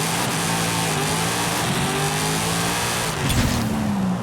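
A car launches hard in the Forza Horizon 5 racing game, its engine roaring loud and close as the pitch climbs steadily through first gear, then a brief dip and a surge near the end.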